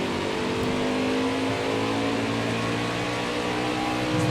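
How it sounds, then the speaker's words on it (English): A race car engine in NASCAR Heat 5, held at a steady high-pitched straining drone as it pushes toward over-revving, loud and constant throughout with no talk. "Again, it's trying to overrev the engine."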